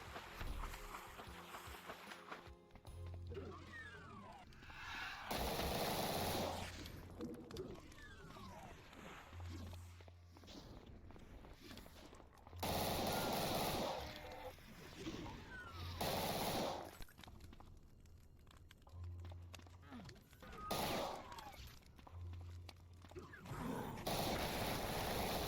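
Bursts of Thompson submachine gun fire from a Metal Gear Solid map pack for Doom II, loud clusters of rapid shots recurring every few seconds over a busy game soundscape.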